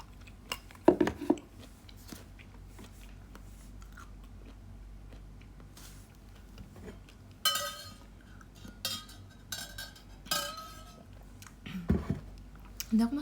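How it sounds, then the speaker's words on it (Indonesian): A person chews food close to the microphone, with irregular crunchy bites and soft mouth noises separated by quiet pauses, plus a few faint clinks. "Bentar, aku ngunyah dulu."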